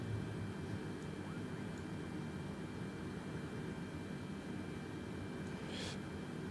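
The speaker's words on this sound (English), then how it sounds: "We're cleared for takeoff." Airplane taking off in Microsoft Flight Simulator, a steady broad roar of engine and rushing air holding constant throughout, with a faint brief chirp near the end and no speech.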